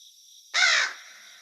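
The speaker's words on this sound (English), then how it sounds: "The call of a raven woke him up." A raven gives one harsh, loud croaking call lasting under half a second, rising sharply out of a quiet, faintly hissing background and fading quickly.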